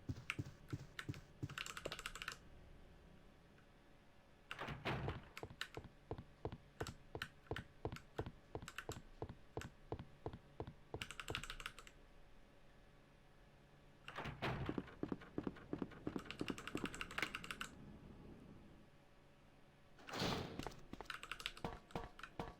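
Rapid computer keyboard typing and clicking during a Resident Evil 2 speedrun, coming in dense bursts of close, crisp keystrokes separated by quieter stretches, with no voices.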